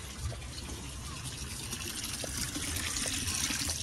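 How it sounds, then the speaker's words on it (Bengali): Water spills over the rim of a full bucket, a steady close rushing trickle and splash that swells slightly toward the end, with no voices. "জল পড়ে যাচ্ছে।"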